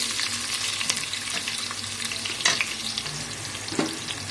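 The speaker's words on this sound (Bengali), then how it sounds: "সর্বপ্রথমে সরষের তেল দিয়েছি, গোটা জিরে দিয়ে দিচ্ছি, তেল গরম হয়ে গেছে। তো পেঁয়াজ দিয়ে দিচ্ছি।" Onions frying in hot mustard oil with whole cumin, a steady close sizzle with occasional stirring scrapes and pops, no one talking.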